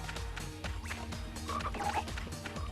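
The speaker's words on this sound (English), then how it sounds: "This frog is fast." A frog enemy in the PS3 action game Legasista croaks amid busy game effects, with dense layered sound and brief tonal chirps over a steady rumbling backdrop, no speech.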